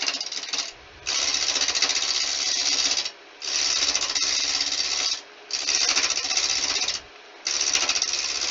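Spalted wood coaster blank turning on a wood lathe as the tool nibbles off the corners, a loud continuous rasping scrape in long passes of about two seconds, broken by brief pauses, close and with no talking.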